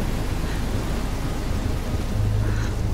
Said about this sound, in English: we're in a dangerous storm, and she's afraid